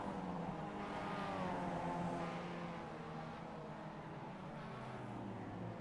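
Mazda MX-5 Miata race cars roar along the front stretch at Long Beach, a steady distant engine drone that slowly shifts in pitch, heard faintly with no talk.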